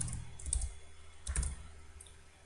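Light keystrokes on a computer keyboard while C program code is typed, a few quick clustered clicks in two short bursts, close but quiet, with no talking.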